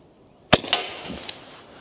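A suppressed De Lisle carbine fires a single quiet shot, a soft crack followed moments later by a sharp metallic ping from a steel silhouette target downrange, with a faint tail afterward.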